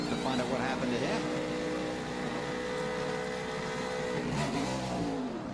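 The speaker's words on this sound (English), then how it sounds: "He was up in the RPM band trying to get that thing revving" A NASCAR stock car at the 2009 Toyota Save/Mart 350 revs high and loud as it pulls away from pit road, a sustained rising engine whine with shifting harmonics across the whole stretch, with a commentator talking over it.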